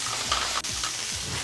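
A spoon stirs vinaigrette in a bowl in a home kitchen, a steady repeated scraping swirl at close range, with faint sizzling cooking in the background and no talking.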